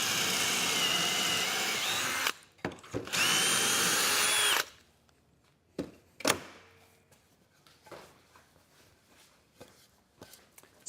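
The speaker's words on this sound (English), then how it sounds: "essentially it drills 2 holes at an angle and they're precise" Power drill boring angled pocket holes through a Kreg jig for a van dinette bed frame, two loud sustained bursts of whirring, then quieter handling knocks and clicks.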